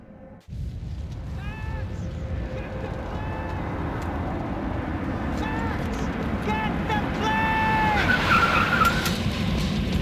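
A car races and skids in the video game Max Payne 3, a loud steady engine roar with repeated tire squeals rising over it, voices shouting over the action.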